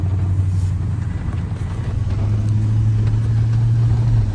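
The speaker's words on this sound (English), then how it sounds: "park the truck" Pickup truck engine running while driving on a cattle ranch, a loud, close low rumble with a steady hum that dips briefly and then settles into an even drone, with no talk.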